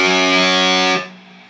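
Distorted electric guitar sustaining a heavily overdriven note with the second or third finger on the 7th fret of the 4th string, part of a riff, ringing loud and alone for about a second before cutting off into faint residual noise.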